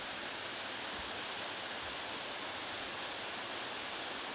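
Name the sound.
water running through a canal toward a turbine plant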